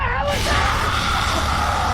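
A humanoid sea creature lets out a loud, harsh, distorted scream from a fishing boat deck, a sustained raw shriek that fills the moment without pause.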